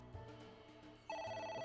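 A telephone in the video game AI: The Somnium Files rings with repeated electronic trills. The ring grows louder partway through, over a low game background hum.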